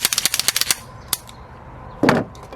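Rapid pistol gunfire from a Staccato-P or Glock: a quick string of about ten sharp shots, then a single shot and a louder blast after a pause, all close and loud outdoors.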